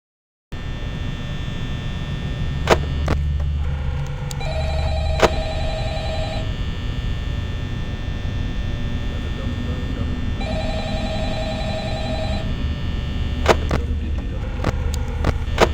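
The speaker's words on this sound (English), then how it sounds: "But then you get another phone call." Ringing phone in the Five Nights at Freddy's game, a repeating electronic ring in two bursts over a constant low hum, with sharp clicks between them.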